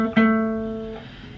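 A single plucked guitar note, pointer finger on the D string at the 7th fret, struck once up close and left to ring out and slowly decay, a soft second touch near the end, no voices.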